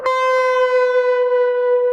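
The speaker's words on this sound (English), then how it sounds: "we're going to bend on the 12th fret, and then we're going to release our bend" Electric guitar note bent up on the 12th fret of the B string and released, played as a lead line. One sustained, bright tone with a rich overtone stack rings out steadily on its own for about two seconds.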